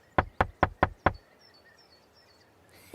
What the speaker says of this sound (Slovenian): Ah, Tinky Binky trka na vrata še.